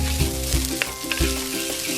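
Egg fried rice with carrots stir-fries in a very hot pan: a loud, continuous sizzle broken by quick scraping stirs, with no talk.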